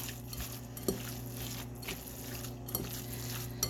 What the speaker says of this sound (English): So I'm just going to mix all of that together.